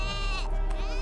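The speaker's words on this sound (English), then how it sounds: "I want to say these are earth goats, sir." Earth goats in an animated video game bleat loudly and close, a wavering, nasal cry that runs through the moment with a short break in the middle.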